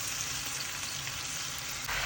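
Malabar spinach hits a hot pan with hilsa fish, setting off a steady, dense sizzle of frying that continues evenly throughout, close and fairly loud, with no talk.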